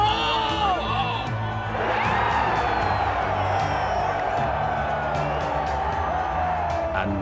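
A golf tournament crowd roaring and cheering for Tiger Woods, a loud sustained wall of shouts, whoops and applause from a big gallery that holds steady throughout.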